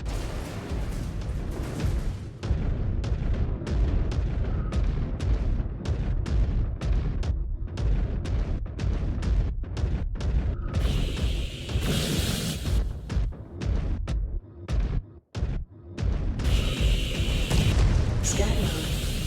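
Missile explosions in the MechWarrior Clans video game, a long run of heavy booms and bursts in rapid, irregular succession, loud and close, with brief gaps and a synthetic voice calling out now and then.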